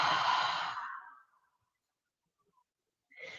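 One slow, deep breath let out in a quiet room: a long, airy exhale that fades into silence, followed by a short breathy sound near the end.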